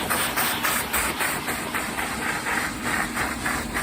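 A steam cleaner and vacuum work together on a car interior, producing a steady loud hiss and whooshing drone with a faint rhythmic pulsing, close and continuous, with no voices.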